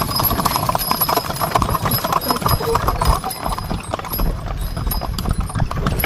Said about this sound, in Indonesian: Ini aku pilih naik delman karena seru banget dan yang terdekat